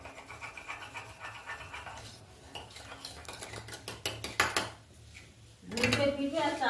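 Metal spoon clinking and stirring against a cup while tea is made with powdered milk at home in the morning: rapid, close, irregular taps, then a short louder scrape near the end.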